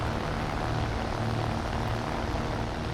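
A propeller monoplane engine drones steadily in a video game dogfight, a continuous buzzing roar with a broad airy wash and no voices.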